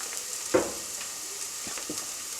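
Chopped tomatoes tipped into a pan of softened, golden frying onions for a chicken curry, giving a steady sizzle with a sharper burst as they land and a few stirring scrapes, close and without talk.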